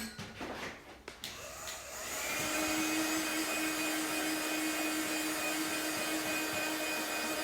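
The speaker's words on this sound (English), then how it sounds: "give this a little blast over with my heat gun just to dry the ink off" A heat gun drying ink on a handmade card, a few handling clicks and then a steady loud whooshing motor blow with a faint whine, close and continuous with no talk.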